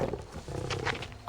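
A tiger lets out a low, rumbling roar, a broad growling rasp that holds steady for about a second and swells sharply right at the end, with no voices over it.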